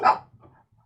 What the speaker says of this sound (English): those dogs are barking